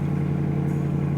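A Dodge Challenger R/T V8 idling just after startup, a steady deep rumble held at an even level for a brief moment.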